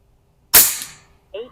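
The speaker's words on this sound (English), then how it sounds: "So there you go, 10 shots." A single sharp shot from a Pinty P-Force air pistol cracks close by and decays briefly before a short murmured voice follows.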